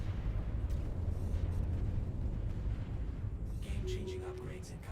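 Long-range torpedo ships firing in a Stellaris space battle, a dense continuous rumble of deep booms and blasts that layers into crackling bursts toward the end.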